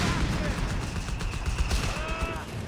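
A Vickers machine gun firing in Company of Heroes 3, rapid bursts of gunfire mixed with other battle noise, loud and dense throughout the short stretch.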